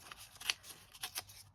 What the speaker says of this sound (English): so I'm just going to tear that down